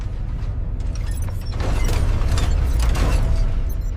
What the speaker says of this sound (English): The click and whir of ascending to godhood